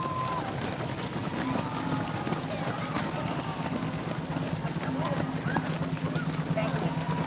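Shoes of Boston Marathon runners pounding the pavement in a dense, continuous patter of many overlapping footfalls, mixed with crowd noise and voices.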